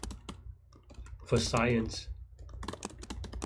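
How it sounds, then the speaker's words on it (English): Rapid clicking keystrokes on a computer keyboard while code is typed, quiet and close, with a brief spoken word interrupting in the middle. "I'm just typing some code to get the min R just"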